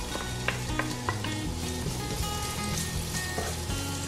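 Half a medium onion, sliced into thin half-moons, sizzles steadily in a pan, with occasional stirring scrapes under the constant crackle.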